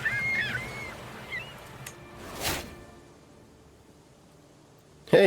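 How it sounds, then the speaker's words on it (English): Seagull cries in a video game, a few brief high squawks early and a loud burst at the end, separated by a whoosh and near quiet. "Oh, we're dealing with seagulls."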